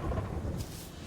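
In the video game Terraria, thunder from a thunderstorm gives a deep rumbling roll with a faint brighter crackle midway, heavy low-end and steady over about a second.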